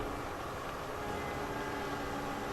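A train in The Crew 2 rumbles steadily alongside a racing Mitsubishi 3000GT VR4, a faint constant wash of noise with no distinct events.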